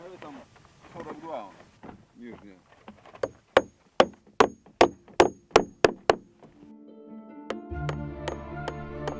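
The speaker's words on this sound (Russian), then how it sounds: "Даже каждую дощечку, лемех на главке приколачивают гвоздями." Hammer blows drive nails into wooden shingles on a church dome, a dozen sharp, evenly spaced strikes ringing out after some speech at the start, then a few more knocks over a low sustained tone.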